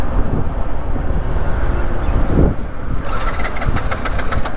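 A Yamaha MT-15 motorcycle engine restarts after being switched off, running steadily with a close, continuous rough drone over wind buffeting the microphone.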